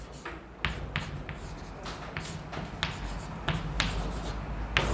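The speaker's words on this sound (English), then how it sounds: "Let me write it down and then" Chalk or marker strokes on a board during a quantum mechanics lecture: a series of short scratching taps and brief strokes in irregular rhythm, fairly quiet over a soft room hum.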